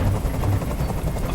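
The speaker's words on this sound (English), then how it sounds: "Tell that helicopter to get out of here." A helicopter hovers overhead in Detroit: Become Human, producing a loud, continuous low rotor thrum with a pulsing beat and no voices over it.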